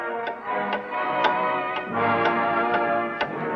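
A time bomb ticks steadily in a regular, evenly spaced rhythm, each tick sharp and close against a low droning background, with no voices.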